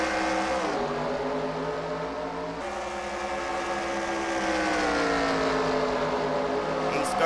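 Race trucks roar together around the Springfield dirt mile in a video game Coors Light Truck Series event, a dense, steady engine drone with pitch rising and shifting across the pack throughout.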